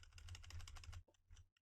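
Computer keyboard keys are pressed repeatedly in rapid, close clicks, a dense run of taps followed by a few separate presses, quiet overall.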